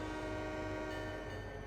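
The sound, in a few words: locomotive horn in Trainz Simulator 3 video game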